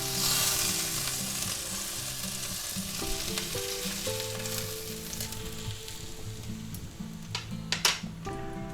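Sous vide pork chops sear in a hot pan with a loud, continuous close sizzle, joined near the end by a few sharp clinks of a utensil against the pan.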